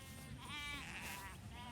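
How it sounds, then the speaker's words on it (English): Several sheep bleat close by on a farm, their wavering cries overlapping through a pen of rams, steady and fairly loud. "These are all the boy sheep."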